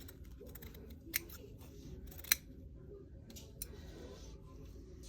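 Scissors snip through a fabric appliqué wing piece for a quilt, giving a few sharp isolated clicks over a steady low room hum while a person talks quietly.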